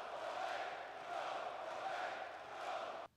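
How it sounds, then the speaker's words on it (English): A wrestling arena crowd booing and chanting at Roman, a loud, swelling roar of many voices rising and falling in waves before cutting off abruptly. "It is entirely Roman getting booed and chanted at."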